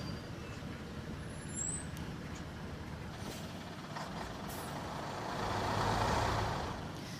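Aid trucks entering Gaza, a continuous heavy engine rumble with road noise that swells slightly louder near the end, with no talking.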